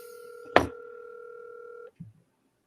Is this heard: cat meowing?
no